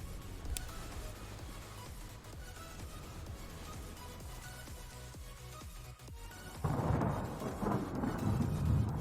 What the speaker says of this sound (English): Storm's coming!